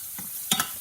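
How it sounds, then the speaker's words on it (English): Chopped onion and rice sautéing in vegetable oil in a pan, a brief stir with two quick louder scrapes over a steady soft sizzle. "we've got the onion going in our vegetable oil and rice"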